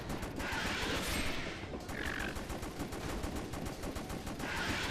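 Rapid gunfire rattles through the House of the Dead Overkill rail shooter, a dense continuous stream of shots with small bursts of higher crackle, steady and moderately loud throughout with no talking.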